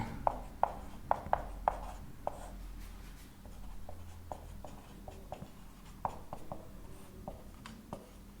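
Marker or chalk strokes on a board, a series of sharp taps and short scratches in an irregular rhythm, close and clear over quiet room tone.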